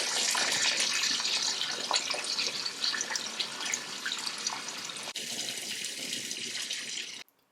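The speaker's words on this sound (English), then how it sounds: "I am about to take a bath to end my night tonight" A bathtub fills from a running tap in an evening bath, a steady loud rush of water that continues unbroken for several seconds before stopping abruptly near the end.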